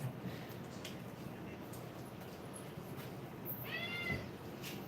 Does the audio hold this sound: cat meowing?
yes